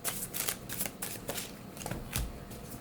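Tarot cards shuffled by hand for a reading, a series of quick papery riffles and soft slaps repeating in uneven bursts, close and fairly quiet, with no talking.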